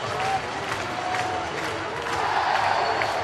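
A sold-out baseball stadium crowd roars and cheers after a Pittsburgh Pirates walk-off win, a steady wash of applause and whoops that holds throughout at full volume.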